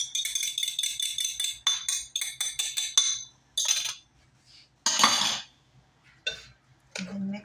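Beaten egg being mixed into sugar cookie dough with a metal utensil: rapid bright clinks and scrapes against a bowl, coming in quick bursts with short pauses between.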